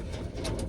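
A racing pigeon gives a brief, low, throaty coo close by, soft rolling pulses over faint background noise.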